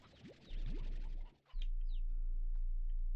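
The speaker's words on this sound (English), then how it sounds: "As soon as I do that, just hear the chicken noise." Chickens cluck in the video game Slime Rancher 2, a few short rising chirps and clucks over a steady game hum, fairly faint with no speech.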